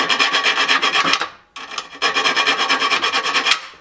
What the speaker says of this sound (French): je vais limer un petit peu à la main